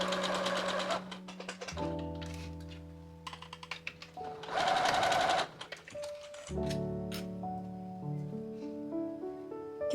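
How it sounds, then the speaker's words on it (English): A sewing machine tacks an elastic channel in place on a watermelon dress, sounding in several short bursts of stitching set against steady background music. "Once you are at the other end, machine tack in place."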